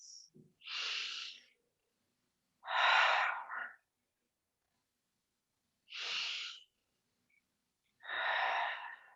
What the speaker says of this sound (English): we're going to end today's practice, as always, with our 3 clearing breaths